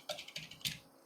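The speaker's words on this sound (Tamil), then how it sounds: "வணக்கம் சொல்லி நான் டைப் பண்ணிட்டேன்" Tamil text being typed on a computer keyboard: three quick clusters of light keystrokes, close and clear, with brief pauses between them and no voices.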